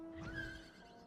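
A horse in the FFXIV video game gives a single short whinny, heard up close over a steady musical tone from the game.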